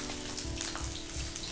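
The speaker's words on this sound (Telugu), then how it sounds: "ఇది లో హీట్ మీద ఫ్రై చేసుకోవాలి, లేదంటే పైన కలర్ వచ్చేస్తుంది" Chicken deep-frying in oil over low heat, a dense steady sizzle and crackle like light rain, close and continuous.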